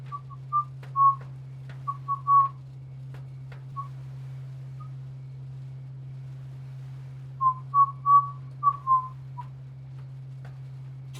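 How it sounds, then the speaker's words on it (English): A person whistles while cooking, giving two clusters of short, clipped notes separated by a long quiet gap, over a constant low electrical hum. "I realize some of my whistles are not being picked up."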